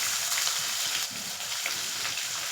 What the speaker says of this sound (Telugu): కరివేపాకు అన్నీ వేసేసుకుని ఆనియన్ బాగా ఫ్రై చేసుకోవాలి